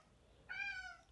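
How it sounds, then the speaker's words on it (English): A cat gives a single short meow in the background, clear but soft, with no speech over it. "a cat in the background"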